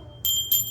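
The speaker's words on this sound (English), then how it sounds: "There is a bell." A hand bell used in home worship rings out in two clear, bright strikes about a quarter second apart, each leaving a shimmering ring that fades, close and alone in a quiet room.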